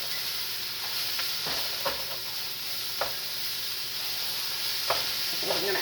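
Bacon sizzles steadily in a frying pan, a constant close hiss with occasional pops and light scraping clicks as it is stirred.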